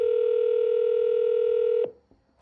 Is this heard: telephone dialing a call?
yes